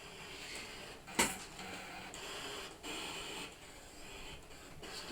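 A Brother ScanNCut DX cutting machine running through calibration, giving quiet mechanical whirring and soft clicks with a sharp knock near the start and a few shifting motor passes.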